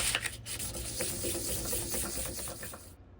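A resin charm rubbed back and forth against 1000 grit sandpaper, a close, soft, rhythmic rasping scrub that stops abruptly near the end.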